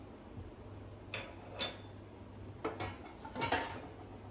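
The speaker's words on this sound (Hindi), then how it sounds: "तेल गरम हो गया है। सबसे पहले हम इसमें सरसों ऐड कर देंगे।" Mustard seeds hit hot oil in a pan while sambar is being made, giving a handful of sharp, scattered pops and ticks over a low steady hum, with no voices.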